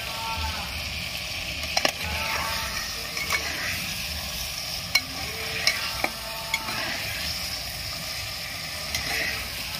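Mutton sizzles and is stirred in spice masala in a pan, a steady frying hiss broken by sharp scraping knocks of the spoon at irregular intervals, close and prominent with no speech.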